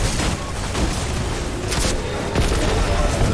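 A rocket launcher fires in Destiny 2 on Xbox Series X, sending heavy blasts through a dense, roaring wash of game noise; loud and continuous, with a few sharper bursts standing out.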